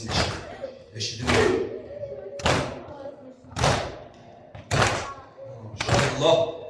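Rhythmic chest beating at a Muharram mourning gathering in Novosibirsk, about six heavy slaps spaced roughly a second apart, close and loud under a chanting voice.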